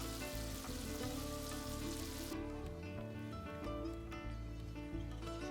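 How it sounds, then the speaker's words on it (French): Pieces of stale bread fry in hot oil with a dense, steady crackling sizzle, loud and close, running continuously with no speech. "je profite de l'huile chaude pour mettre mes morceaux de pain rassis"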